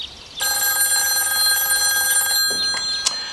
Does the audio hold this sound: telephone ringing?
yes